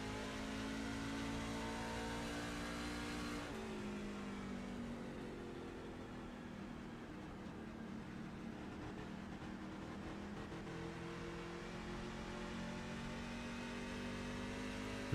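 Onboard engine of Callaway's race truck accelerating off turn 4 at a NASCAR-style truck series race, a steady droning mid-pitched roar whose tone dips with a gear change and then climbs again through the lap.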